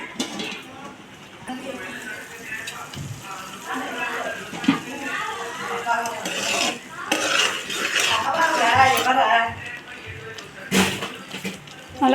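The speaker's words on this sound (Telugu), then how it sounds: "తిప్పుకుందాం బాగా." Ginger garlic paste being stirred in a cooking pan for a prawn and okra curry, giving steady scraping and clinking of a utensil against the pan, with a voice talking over it throughout.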